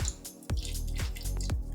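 Soy sauce, rice vinegar, water and oil splash into a pressure cooker for beef and broccoli, with several short dripping, glugging pours close by and no talking.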